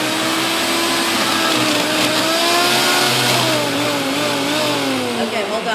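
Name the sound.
food processor blending cheddar dip ingredients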